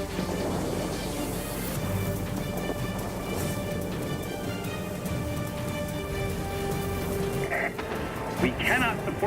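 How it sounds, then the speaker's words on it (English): Heavy storm rain pours steadily in the World of Warplanes combat flight game while thunder rumbles low beneath it. Engine drone and game effects are mixed in, and a faint voice comes through near the end. "The storm is too heavy."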